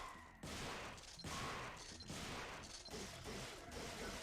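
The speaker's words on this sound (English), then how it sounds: "Let's test out this shotgun." A shotgun fires in the Devil May Cry video game, several heavy blasts in quick irregular succession, loud and close amid crashing impacts and game effects.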